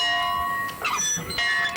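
An old plantation dinner bell, once rung at noon on the Cox Plantation, rings loud and close with sustained metallic tones and a couple of fresh strikes ringing over each other.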